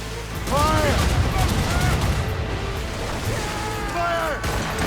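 Ship cannons fire in a naval battle in Assassin's Creed Rogue, a dense, continuous barrage of booms and crackling gunfire. Shouted voices of the crew come through the noise.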